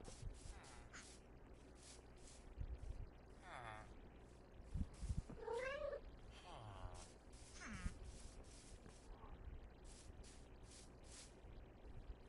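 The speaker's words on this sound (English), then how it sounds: "we might have a bunch of cats spawning in" Several Minecraft cats give short rising meows scattered through a quiet background, a few calls overlapping, with a person talking intermittently.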